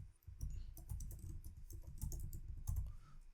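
Close, steady clatter of computer keyboard typing, a dense run of key presses with no pauses, heard alone without any voice over it.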